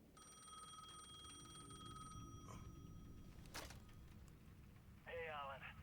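A payphone at the edge of a plaza rings in the video game Alan Wake II, a steady electronic trill for about two seconds with a short later burst, under game ambience, with a voice talking.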